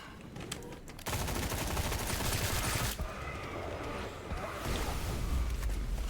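Rapid gunfire from a gun in a first-person shooter demo, dense bursts of shots rattling loudly and continuously for several seconds, with a brief break before firing resumes.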